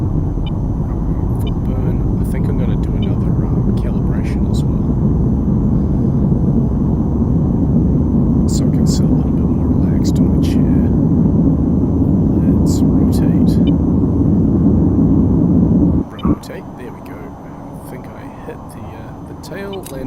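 A T-55 aircraft engine at full burn in the flight game VTOL VR roars as a loud, dense, steady rumble for most of the stretch, then cuts sharply and drops to a quieter hum near the end, with speech and scattered clicks throughout.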